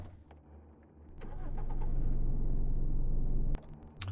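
A car engine in the video game Cataclysm DDA cranks and catches, then holds a loud, steady running drone for about two seconds before cutting off sharply. No voices are heard.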